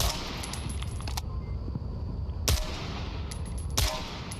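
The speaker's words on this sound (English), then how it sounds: "Fire the whole magazine." Automatic rifle fire in the VR shooter Onward, emptied in one long full-auto magazine: loud, rapid continuous shots with a few sharper bangs standing out, ending in a final burst.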